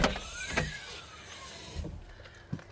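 A Benchwheel electric penny board skateboard's rear-mounted electric motor gives a faint, rising and falling whine, with a few soft knocks and thumps from the board around it; no speech.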